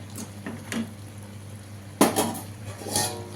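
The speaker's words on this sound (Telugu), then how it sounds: "కొంచెం మూత పెట్టేసుకుందాం" A lid set onto a cooking pot on a home stove while peanuts cook inside, giving a sharp metallic clank followed by a brief rattle, with a few lighter clinks of cookware just before.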